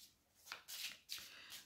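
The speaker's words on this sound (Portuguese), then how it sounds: "Vamos baralhar cartas" Oracle cards are shuffled by hand in a few quiet, crisp riffling bursts, close and soft with no talk.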